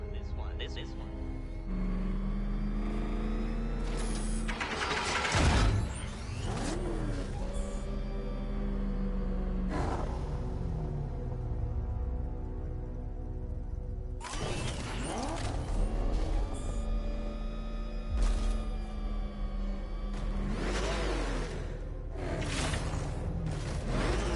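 The Batmobile in Batman: Arkham Knight, a heavy tank-like vehicle, drives with a deep engine drone, surging revs, mechanical creaks and whooshes, heard beneath a person talking for much of the time.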